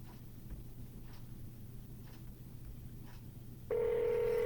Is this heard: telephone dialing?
yes